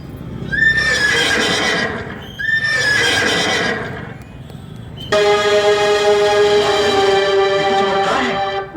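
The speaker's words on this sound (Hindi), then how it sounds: "घोड़ा फिर से हिनहिनाने लगा" A horse whinnies twice in quick succession, loud and near, each neigh a shrill, wavering call. A long, steady, horn-like tone then takes over and holds to the end.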